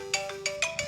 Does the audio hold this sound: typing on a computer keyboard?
no